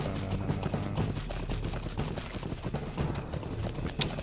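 Hooves of a horse mount clip-clop in a steady, continuous rhythm during riding in the video game Lord of the Rings Online, with a faint whinny among the footfalls.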